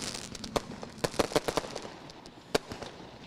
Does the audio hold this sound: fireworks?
yes